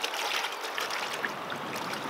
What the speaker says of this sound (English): you're going to take it out of the wash water and you're going to rinse it